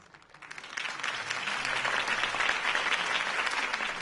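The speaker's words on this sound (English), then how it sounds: "could have heard that applause" Applause swells from a quiet start into steady, dense clapping from a large crowd at a political campaign speech in a Batman game, continuing strongly to the end.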